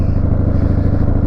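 A 1997 Harley-Davidson Dyna Super Glide motorcycle runs with a steady, deep, throbbing engine rumble held at an even idle, close and loud, with no talk.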